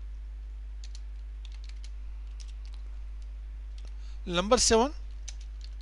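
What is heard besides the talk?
typing on a computer keyboard in Notepad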